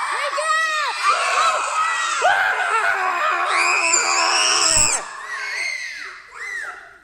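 A group of children yells and shrieks together loudly and up close, their high voices overlapping for several seconds before trailing off.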